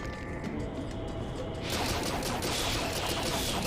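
Crossbow fire against enemies in Link's Crossbow Training, a Wii Zapper shooting game: a soft game tone gives way to a dense, loud burst of rapid shots and impacts that keeps going to the end.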